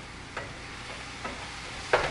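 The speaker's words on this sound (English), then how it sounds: "Let me cook my meats here." Meat frying in a home cooking pan gives a faint, steady hiss with a few soft crackles and one sharper pop near the end, with no talking.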